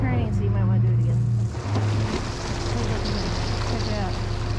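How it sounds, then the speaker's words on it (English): A Nordhavn 55 motor yacht backing into ice in winter on the Inside Passage near Port Hardy, its engine revving in a strong low hum that drops back, with ice crunching and water churning under people talking. "he revs the engine, and then that breaks up the ice"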